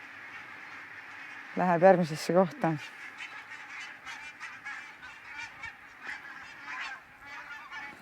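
A flock of geese honks in a few loud, close bursts of nasal calls over a bed of softer distant honking, with a person speaking Estonian briefly.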